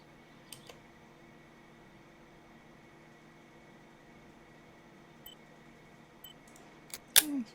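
An in-game camera in Martha Is Dead gives a few faint, sparse shutter clicks over a low steady hum, with a sharper, louder click near the end.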